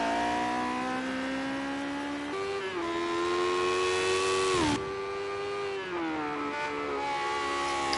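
A Lotus 78 race car screams around Brands Hatch in a racing video game, its engine holding a loud, high-pitched whine that steps through gear changes and dips under braking, close and continuous, with no talk.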